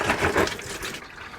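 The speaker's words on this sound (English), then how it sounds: "This is already starting to drip." Fluid from a 2005 Chevrolet Silverado draining during a fluid flush, a short close splashing trickle with dripping that thins out toward the end.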